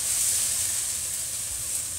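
Egg-dipped French toast, made with peanut butter and chocolate, sizzles steadily in a pan, a close, even crackling hiss that stays alone without any voice over it.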